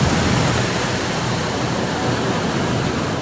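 Loud, steady roar of the Ravi River in high flood at Kabirwala, floodwater rushing against a railway bridge, a dense unbroken wash of water noise with no voices.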